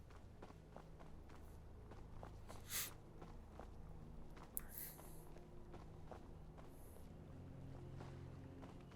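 Footsteps of the companion Arnea trudging behind on a mountain path in Skyrim, a steady soft crunching rhythm of steps a little way back, over a low windy ambience.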